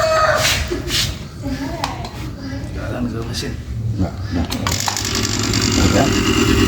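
An air conditioner compressor is test-started after its CRS wiring is installed, giving a loud, steady mechanical hum and rattle with workshop clatter. It holds throughout and grows slightly stronger toward the end.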